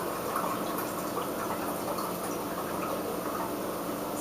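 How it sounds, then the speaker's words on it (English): Tap water runs steadily into a 2-cup measuring cup, a continuous close splashing fill that holds an even level throughout with no talk. "This is a 2-cup measuring cup, so I just fill it up to the top."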